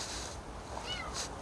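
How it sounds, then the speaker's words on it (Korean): A cat meows twice, close by, with two short rising calls over a steady background hiss. "고양이가 있나?"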